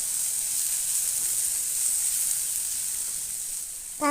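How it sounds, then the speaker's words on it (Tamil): Tomato and onion sauté in a pan for a carrot, bean and egg poriyal, giving a close, continuous sizzling hiss that holds steady, with a short ringing tone breaking in at the very end. "தக்காளி நல்லா மசிஞ்சு வதங்கி வரட்டும்."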